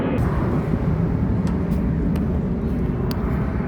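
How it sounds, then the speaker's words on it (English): An airplane passes overhead outdoors, a loud, steady broadband roar that fills the whole stretch with a few faint clicks, no voices over it. "Let me pause for the plane."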